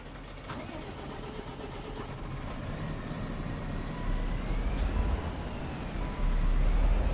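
Engine of a tractor in Farming Simulator 25 rumbling as it drives into a workshop, a steady mid-pitched drone that builds gradually louder toward the end, with no talk.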